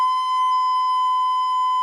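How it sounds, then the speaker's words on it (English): A soft, steady B note on a recorder, blown gently so it stays pure and nearly sine-like; a single sustained tone holds evenly, alone, for about two seconds. "here's a B."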